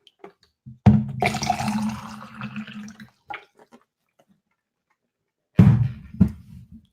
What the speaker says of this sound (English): Sorry, I got to pour some water here.